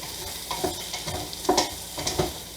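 Broccoli being stirred in hot Goya olive oil in a pan, a steady close sizzle and hiss with a few louder scraping stirs at a slow, irregular rhythm.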